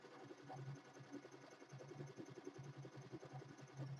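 A commercial embroidery machine stitches quietly at a fast, steady pace, with a soft mechanical hum and rapid ticking needle strokes running throughout.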